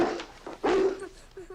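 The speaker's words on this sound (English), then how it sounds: "Why is the dog barking?" A dog in a film scene barks and yelps a few times at close range, mixed with short whimpers, with voices faint underneath.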